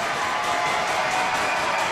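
Loud, steady roar of a basketball crowd at a Big V championship final between Ringwood and Corio Bay, a dense wash of cheering and noise filling the hall without a break.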